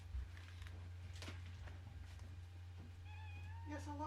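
A pet cat gives a couple of short meows near the end, faint and under steady low hum, with a person talking in the background.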